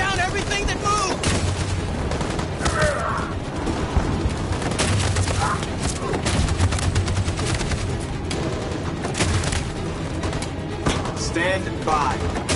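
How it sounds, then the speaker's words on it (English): Dense battlefield gunfire from the video game Detroit: Become Human, with sustained machine gun bursts and explosions layered into a continuous loud barrage throughout, with faint voices mixed in. "That machine gun is taking down everything that moves!"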